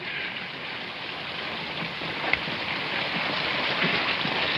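A waterfall in a 1948 Hollywood comedy rushes as a steady, broad hiss of falling water, continuous and fairly loud with no talk over it.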